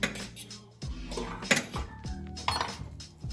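A spoon stirs a pot of zuppa toscana soup as fresh kale is folded in, giving irregular near clanks and scrapes of metal against the pot with a few sharper knocks.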